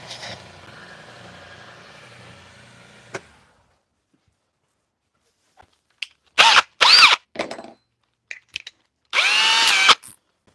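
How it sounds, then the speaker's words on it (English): A power sander grinds a small nub off a wood-turning project. A low steady whir fades out early, then after a silence come several short, loud, close bursts of high-pitched motor whine. "I do have to sand that little nub off"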